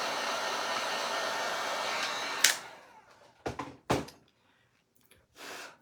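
A hair dryer runs steadily on a wooden snowman craft board, a loud whooshing hum that cuts off after about two seconds. A few soft thunks and a short rustle follow in the near silence.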